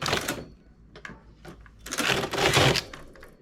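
A knitting machine carriage is pushed across twice to knit two rows, giving rattling, clacking mechanical sweeps with short gaps between, close and fairly loud with no talking.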